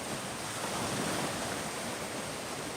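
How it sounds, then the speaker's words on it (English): Ocean surf on the beach at Clearwater, Florida pours out as a dense, steady broadband wash, close and loud, with no voices. "The sound of the ocean is so friggin' mesmerizing."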